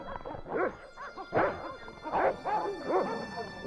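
In the video game Broken Sword: Shadow of the Templars Reforged, dogs bark in a string of about five sharp, yelping bursts spaced roughly half a second apart, fairly loud and with no speech over them.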